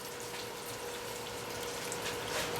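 Water gushing steadily out of a car heater core being flushed, a continuous broadband hiss and splatter at moderate level with no pauses and no voices.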